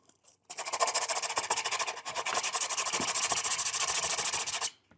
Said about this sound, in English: I can probably just use the sandpaper to get the rest of it off.